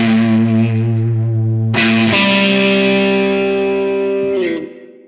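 Electric guitar with fuzz distortion plays a riff with big string bends and double stops, loud and sustained, with a sharp new attack partway through and a quick fade at the end.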